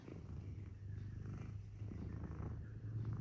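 A cat purrs close up in a low, steady, rhythmic rumble that carries on without a break in a quiet indoor room.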